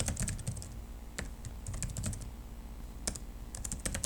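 Quick bursts of keystrokes clatter on a computer keyboard while Java code is written, clustered taps separated by brief pauses, close and clear with no talking.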